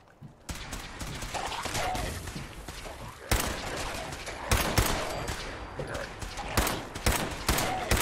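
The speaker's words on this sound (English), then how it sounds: "we're just going to take some pot shots at these ghouls here" Gunfire aimed at ghouls in Fallout 4, a rapid run of sharp, loud shots that comes in bursts and repeated volleys against a dense, noisy combat background.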